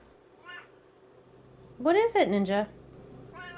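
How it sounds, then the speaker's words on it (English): A pet cat named Ninja meows for attention in a run of several loud, close, rising and falling calls, while a person speaks to it softly before and after. "I gotta go pet my cat because he's apparently wanting some attention"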